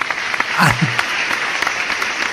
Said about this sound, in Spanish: ahí te vamos a poner ahí sonido, ovación